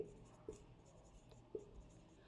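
Pen or pencil writing notes on paper, a quiet scratching with a few sharper tap-like strokes, close and faint with no talk.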